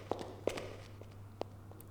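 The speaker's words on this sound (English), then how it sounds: "I hear footsteps." Footsteps in the video game Ultima IX: Ascension, three or four sparse distinct steps over a steady low hum, fairly close and moderately loud.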